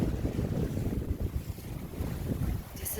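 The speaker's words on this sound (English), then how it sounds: "we've got about 20 knots of wind and the sea's following us" Steady wind buffeting and rushing water around a sailboat underway in about 20 knots of wind with a following sea, continuous and close with no voices.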